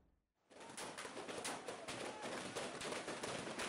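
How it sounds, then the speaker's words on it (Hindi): Sustained gunfire from an encounter in Pulwama, a continuous crackling barrage of shots heard at a distance and fairly faint, with no pause after it begins. "आतंकियों ने फायरिंग शुरू कर दी"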